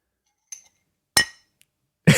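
Three separate sharp clinks of a mug being tapped for a cheers, each a bright short ring, the last one louder and fuller, with silence between.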